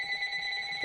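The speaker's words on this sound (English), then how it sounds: "There's a phone ringing." A telephone rings alone in a short burst, a steady electronic trill that is fairly loud and close, ending with a brief low thump.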